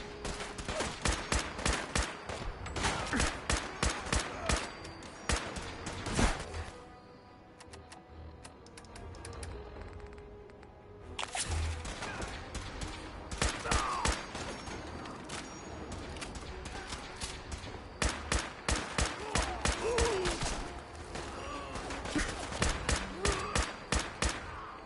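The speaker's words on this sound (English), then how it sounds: "Oh, they're shooting me through the windows." Bursts of rapid automatic gunfire from enemies shooting through windows in the video game Fallout 4 on PlayStation 5, loud and dense volleys with a short lull in the middle, no talk.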